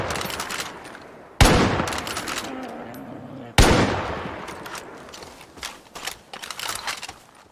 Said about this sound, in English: Just like Far Cry 5, guns are loud and realistic.